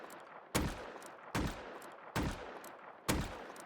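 Four single gunshots from a weapon in the video game Rust, each a loud sharp crack with a short decaying tail, spaced roughly evenly under a second apart.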